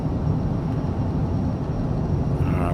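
Steady, dense jet engine roar of a Jetpol P-24 private jet on its takeoff roll in Microsoft Flight Simulator, a loud continuous low rumble with no voices.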